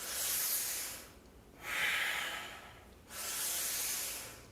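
Deep, slow breaths during a Kundalini yoga breathing exercise: two long airy inhales or exhales separated by a brief pause, close and steady, with no talking.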